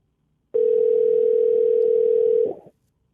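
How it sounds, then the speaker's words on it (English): One long electronic ring from a phone that nobody picks up holds for about two seconds, then ends with a small click and fades. It sounds close and steady, with no one speaking. "I think this might be one that just rings forever"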